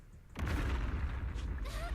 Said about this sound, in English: That's a hell of an explosion for like a hand grenade type thing.